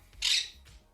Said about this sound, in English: Arwen, who sits behind me, is a 5-year-old Quaker Parrot